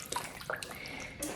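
Cold tap water runs into a sink while a cashmere sweater is rinsed, giving a close, continuous splashing with a few small sloshes and drips over a brief moment.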